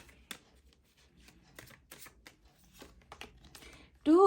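Tarot cards are drawn and handled from the deck, giving a string of soft, close rustles, flicks and snaps spread irregularly across a quiet room, followed at the end by a brief burst of voice.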